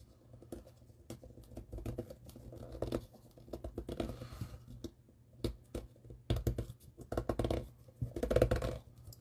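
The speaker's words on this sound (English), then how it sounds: "That's the box making that noise." A cardboard box is folded and handled, giving irregular bursts of crinkling, scraping and rustling at close range, some louder flurries separated by brief quieter gaps.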